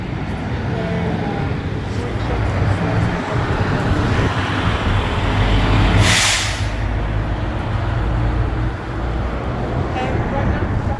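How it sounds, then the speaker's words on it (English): Steady traffic rolls along the main street of Oslo, a dense continuous roar of passing cars with a brief hissing burst partway through, heard close and loud. "Right now, the traffic is very smooth. I know you guys don't believe me because it's a lot of cars"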